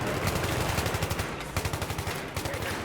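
Rapid automatic gunfire in Battlefield 3 on Operation Metro in Conquest mode, a steady stream of sharp shots with brief pauses, loud and close.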